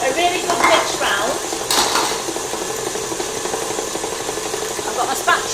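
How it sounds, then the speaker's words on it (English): Butter being mixed in a bowl for shortbread: scraping and clinking of a utensil against the bowl with irregular knocks and rattles, fairly close and continuous, with a voice briefly audible early on. "I'm just going to give that a really good mix round"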